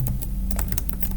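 Quick run of computer keyboard keystrokes typing in the Vim editor, about a dozen crisp clicks in uneven bursts, close to the microphone over a low background hum, with no talking.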